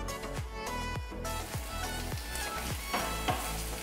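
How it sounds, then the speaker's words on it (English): Guanciale fries in a hot pan with a dense, continuous sizzle and crackle, with several soft knocks of a utensil moving the pieces, steady and close throughout. "When the pan is hot, you put the guanciale in."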